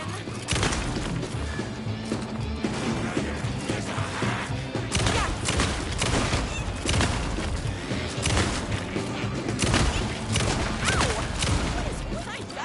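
Chaotic combat in Alan Wake 2, with repeated loud shots, crashes and thuds piling up over a dense, continuous game soundtrack for about thirteen seconds.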